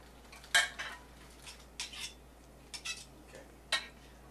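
A kitchen knife cuts through raw chicken breast on a board, giving a few short, separate scraping strokes with pauses between them, close and fairly quiet, with no talk.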